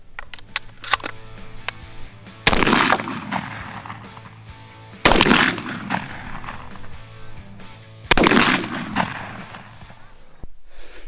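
A Winchester SX4 shotgun with a Carlson full choke fires 1 1/8 ounce 8-shot loads at a range: three loud, sharp blasts spaced a few seconds apart, each with a ringing tail, amid lighter clicks and handling noise.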